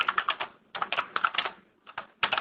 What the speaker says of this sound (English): We can hear someone typing